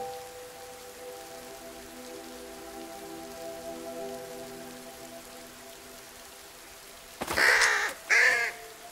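A crow in the adventure game Mystery Detective Adventure gives two loud, harsh caws close by, near the end of a quiet stretch with a faint steady hum.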